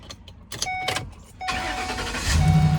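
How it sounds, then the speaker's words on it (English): A family van drives along, a steady engine and road rumble building from quiet to louder with no voices over it. "We're in the van today because the gray car is in the shop."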